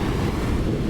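Surf washing onto a beach blends with steady wind buffeting the microphone, forming a continuous low roar with no distinct breaking crash, alone and unbroken.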